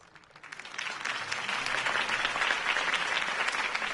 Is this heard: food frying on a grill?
no